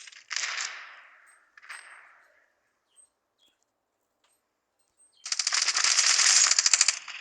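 Video game gunshots: a couple of sharp shots with decaying tails early on, a quiet gap, then a dense burst of rapid automatic fire near the end.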